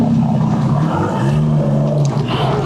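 An Aston Martin engine gives a continuous, close, throaty drone that holds steady throughout, with a slight shift in pitch near the end.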